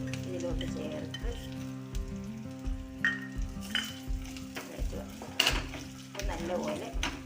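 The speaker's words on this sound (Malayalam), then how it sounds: "ഇതിലോട്ട് നമ്മൾ കുറച്ച് തേങ്ങ മാറ്റി വെച്ചിട്ടുണ്ട് വറുത്ത് ചേർക്കാനായി" Grated coconut frying in a pan for papaya and cowpea erissery, sizzling loudly with repeated rhythmic stirring scrapes and clinks of a spoon against the pan, close and steady throughout.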